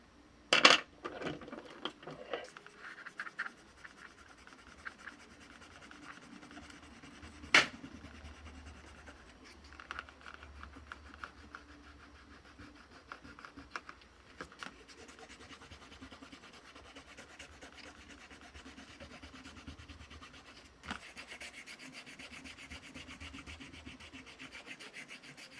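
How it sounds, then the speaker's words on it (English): Pencil marks being rubbed out with an eraser during a paper weaving craft, a steady close scratchy rubbing that runs on and off for the whole stretch, with a few sharp knocks and taps from handling the work. "Erasing time."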